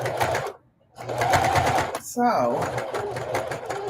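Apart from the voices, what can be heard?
sewing machine stitching denim appliqué over a seam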